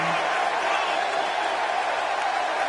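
Arena crowd at a professional wrestling event before a steel cage match, a steady loud roar of cheering and noise filling the hall without pause.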